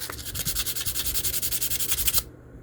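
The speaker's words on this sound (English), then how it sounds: "It's a good thing I bought sandpaper, because I've been using it to death." Sandpaper rubbed back and forth by hand in steady, rapid strokes, about eight per second, loud and close, ending abruptly after a couple of seconds.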